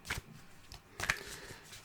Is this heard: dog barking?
no